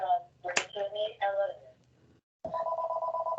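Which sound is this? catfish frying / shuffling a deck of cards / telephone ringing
telephone ringing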